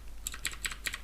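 Computer keyboard keys tap in a quick, even run of about five close, crisp clicks while shift is held and arrow keys are pressed, alone with no talk.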